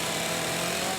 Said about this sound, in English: chainsaws, heavy equipment, and wood chippers pierced the silence of the sunrise